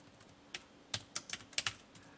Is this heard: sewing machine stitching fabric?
no